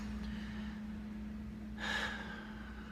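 One deep breath is drawn in and let out near the microphone, a soft airy rush over a steady low background hum, with no talking.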